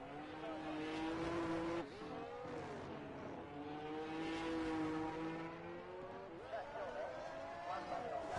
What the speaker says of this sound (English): Car number 99 making his way down this incredibly long straight